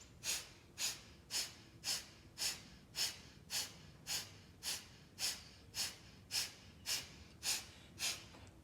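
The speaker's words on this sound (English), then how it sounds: "as you breathe deep into the belly" Deep belly breathing during a healing practice: slow, steady, close breaths, about fifteen airy inhale-exhale cycles repeating in an even rhythm, soft and quiet with no talking.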